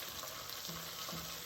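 Food sizzling and frying in a pan on a hot burner, a continuous hissing crackle at low volume with no talk over it.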